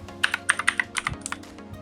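Quick clicking keystrokes on a computer keyboard as a title is typed, about a dozen close taps in an uneven burst with no voices.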